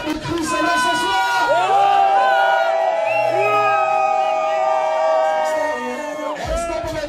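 A loud crowd at an evening baptism and first communion celebration cheering, whooping and shouting together, sustained and close, with voices rising and swelling throughout.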